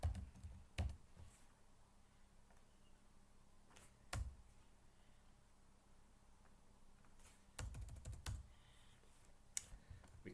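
Keystrokes on a computer keyboard come in short bursts of rapid clicks separated by quiet pauses, close and fairly soft, with no one talking.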